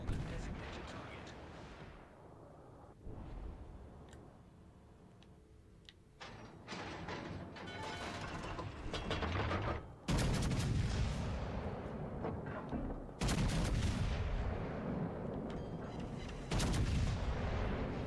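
Heavy naval gunfire in World of Warships: Legends, with repeated booming salvos and rumbling blasts arriving in loud bursts over continuous battle noise, with a voice speaking at moments.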